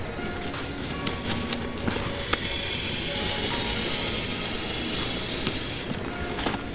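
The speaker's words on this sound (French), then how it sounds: "Il faut à peu près 10 coups de pompe pour qu'il soit rempli à fond" A hand pump inflating a packraft outdoors gives repeated mechanical pumping strokes, a steady rhythmic push-and-hiss with sharper clicks between strokes, fairly close and with no voices.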